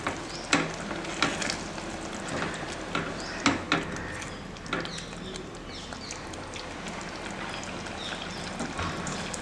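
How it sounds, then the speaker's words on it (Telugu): A spoon stirs palak paneer curry mixed with fresh milk cream in a pan on the stove, giving a continuous wet sizzle broken by irregular scraping and clinking taps, close and steady. "ఇప్పుడు ఇదంతా ఒకసారి మళ్ళీ మనం మిక్స్ చేసేసుకుందాము"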